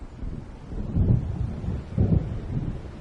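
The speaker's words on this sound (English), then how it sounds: "It seems there's a storm coming" Low rumbling thunder from an approaching storm in the video game Alan Wake, with two heavier rolls over a steady wash of wind and rain, no voices.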